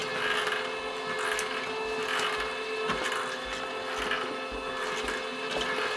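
An ADR LAB500 card machine runs its conveyor of four rubber ribbons, giving a steady close mechanical whir and hum with faint rhythmic rattles and ticks repeating throughout.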